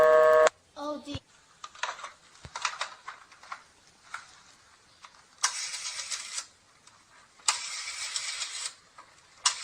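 A rotary telephone being dialed in a radio drama: a handset lifted, then a series of whirring dial returns separated by short pauses, with brief speech near the start.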